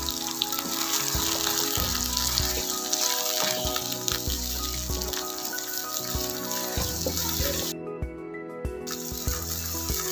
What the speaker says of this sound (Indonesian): Kita masukkan wortelnya, kita kasih air.